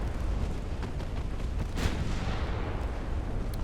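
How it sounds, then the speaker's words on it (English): A 9-inch naval gun firing in the Ultimate Admiral Dreadnoughts warship game, one dull boom partway through, muffled under a constant loud rumble of sea and battle noise. "Actually hit the guy with the 9-inch gun."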